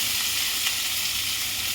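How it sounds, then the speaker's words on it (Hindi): Green chillies and onion sizzle in hot masala in a pan, a dense, continuous crackling fry heard up close with no speech. "इसे मैं थोड़ा डीप ब्राउन होने तक भून लेती हूँ"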